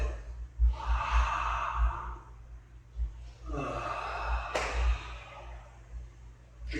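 Slow, deliberate breaths let out through the mouth like sighs, without force, each long exhale audible and fairly close.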